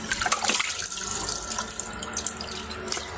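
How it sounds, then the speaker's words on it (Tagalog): Running tap water pours steadily into a sink as tilapia is rinsed, a loud, close, continuous splashing hiss with small clatters and shifts in the flow, no voices. "hugasan ko na ito ang tilapia"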